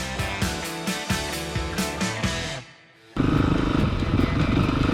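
A 2018 Honda CRF 450R dirt bike lapping a track, its engine revving in rhythmic bursts, briefly fading almost silent, then returning with a loud, sustained close-up roar.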